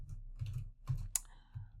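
Quiet clicks of a computer keyboard during a Tableau session, a few soft irregular keystrokes in a short burst with no talking.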